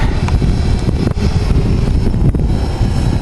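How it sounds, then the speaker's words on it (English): Strong wind gusting across the microphone outdoors while a Typhoon H drone is flown, a loud continuous low roar and buffeting that runs the whole time without pause. "This wind's really picking up."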